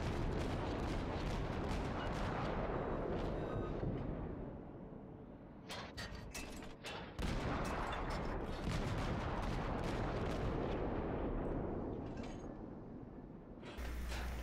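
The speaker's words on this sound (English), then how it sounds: "I fire even after the target disappears in the smoke, high explosive shells ending his pursuit." Naval gunfire from a St. Louis cruiser in World of Warships, a sustained roar of heavy shell salvos with sharp cracking bursts in the middle, loud and dense throughout.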